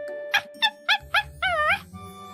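A small white dog gives a string of short, high whimpering yips, four quick cries followed by a longer wavering whine, close and fairly loud with no speech.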